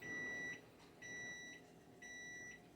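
Three evenly spaced electronic beeps from a kitchen timer set for baking rolls, each a bright steady tone of about half a second, repeating once a second, near and clear in a quiet kitchen.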